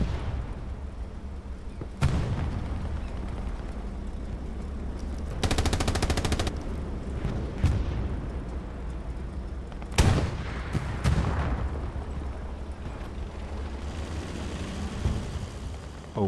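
Video game gunfire crackles through a match, with rapid machine-gun bursts, a dense sustained volley in the middle and scattered single shots and booms over a constant rumbling background.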